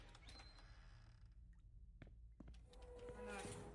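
Doors creak open in a dark horror video game, a faint low groaning creak with scattered clicks over a quiet, rumbling ambience.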